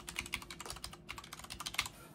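Rapid, steady keystrokes on an Omen 70% mechanical keyboard with brown switches, close and crisp, a continuous stream of soft clacks with no voice over them.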